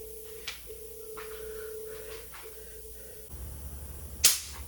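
A phone rings with an incoming call in a garage during a Silverado suspension rebuild: a steady electronic tone broken by brief gaps, followed by a sharp metallic click near the end.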